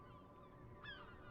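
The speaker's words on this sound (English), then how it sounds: "I can hear the gulls, man. You're right by the sea." Seagulls call by the sea in the video game Disco Elysium: a single rising, nasal gull cry cuts in midway over a quiet, steady seaside ambience.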